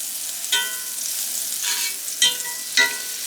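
Olive oil and butter sizzle steadily in a hot cast iron pan, a bright continuous frying hiss with a few sharper crackles and spits breaking through at intervals.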